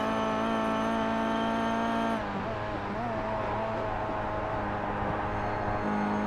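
Race cars in iRacing heading out onto the track at the Malaysia Championship, a sustained engine drone with layered whining revs that shifts pitch midway as cars change gear, continuous and fairly loud.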